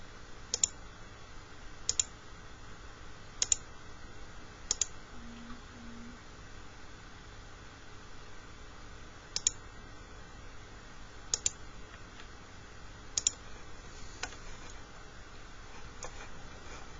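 Computer mouse clicks while sketching on a surface in OnShape CAD software, sharp isolated clicks, often in quick pairs, spaced irregularly over a quiet room hum.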